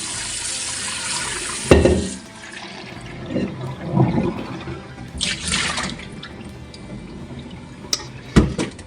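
Beef tongue rinsed in a kitchen: a strong gush of tap water at the start, then intermittent splashing and dripping with soft clunks of a pot, close by.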